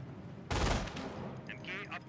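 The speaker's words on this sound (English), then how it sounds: "MG42 firing away." MG42 machine gun firing in the strategy game Company of Heroes, a short, loud burst of rapid automatic fire that cuts in abruptly, followed by fainter battlefield noise and scattered sharp effects.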